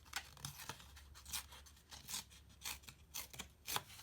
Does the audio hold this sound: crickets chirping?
no